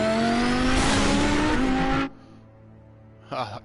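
A car engine revs hard and loud in Batman: The Telltale Series, Episode 2: Children of Arkham, holding a steady roar for about two seconds before cutting off abruptly, followed by near quiet and one brief later burst.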